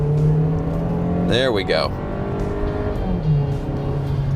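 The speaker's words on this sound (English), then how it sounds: "So here, pulling out, I can even get wheel slip." A 2025 Volkswagen Taos with a turbo engine pulls out and accelerates hard with wheel slip, its engine note rising and tires briefly chirping, while someone speaks over it.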